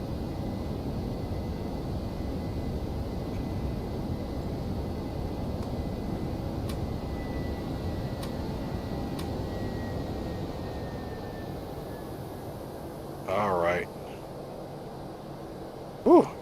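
Airbus A321 engines drone in flight in the X-Plane 11 flight simulator, a steady broadband roar from inside the aircraft, with a brief soft click and chime near the end.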